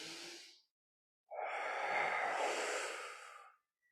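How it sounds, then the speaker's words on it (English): A deep, full breath taken while holding a plank in a movement therapy class: a short exhale trails off, then after a pause a long, loud, airy breath swells and fades, close to the mic. "Continue to get nice full breaths into that crocodile breath"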